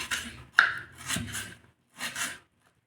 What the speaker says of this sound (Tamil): ஊறினா கூட வெங்காயம் கட் பண்ணிக்கிறேன்